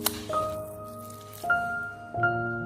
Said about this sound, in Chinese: 我们一边搅拌，还可以一边拍打肉馅